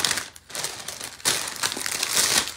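Crinkling plastic packaging rustles and crackles continuously as a glass crafting mat is unwrapped, close and fairly loud, with a short lull before a louder burst of crumpling.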